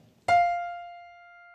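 A single high F note, an octave above the lower F, sounds once with a clean attack and rings alone as it slowly fades.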